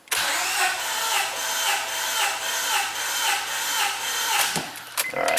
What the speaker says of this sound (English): So we're going to go wide open throttle. We're going to crank it.